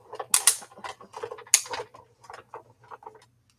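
An old scrapbooking press machine works under heavy pressure with a series of close creaks, clicks and grinding mechanical rasps, uneven and fairly quiet, sharper at the start and thinning out toward the end.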